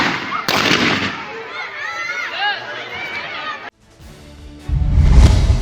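Heavy gunfire as armed men surround a house in Khairpur, heard as sharp bursts and cracks under excited voices and chatter, a brief lull, then a loud, close rumbling barrage.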